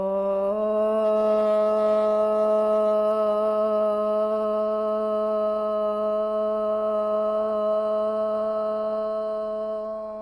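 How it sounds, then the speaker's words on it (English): Group of yoga students chants a long, steady Om together at the end of class, one sustained harmonic drone held evenly for about ten seconds before fading. "We'll end our class with the sound of Om."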